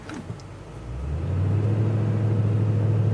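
Stuck truck revving its engine as the tires spin, a low rumble that swells after a moment into a steady loud drone, close by with no talking.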